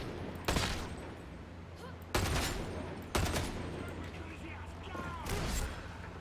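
Gunfire in the shooter game Darktide, a veteran firing: three or four sharp, loud broadband blasts spaced about a second apart, each decaying into a reverberant tail.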